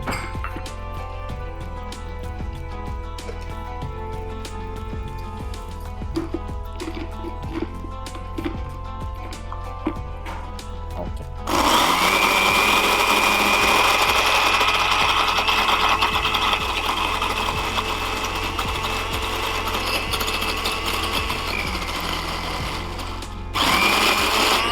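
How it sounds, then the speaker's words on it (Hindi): Electric kitchen grinder blending ingredients with a spoonful or two of milk into a paste, starting with a loud, steady, close whir about halfway through after quieter clinking and setup sounds, then stopping near the end. "ग्राइंडर हम यहाँ ले आते हैं।"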